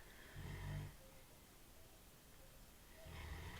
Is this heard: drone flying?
no